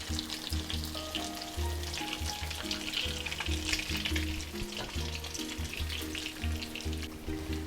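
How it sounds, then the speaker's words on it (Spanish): Fish cakes fry in hot oil in a pan, a steady close sizzle with crackling spatter running unbroken and alone throughout. "Vamos a freírla al mismo tiempo del otro lado, de 1 a 2 minutos."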